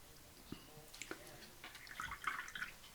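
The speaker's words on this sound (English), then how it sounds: "So clean your brush off of all that magenta that you had on it." A watercolour paintbrush swished and tapped in a water pot to rinse off magenta paint, faint close drips and soft splashy sloshing building toward the end.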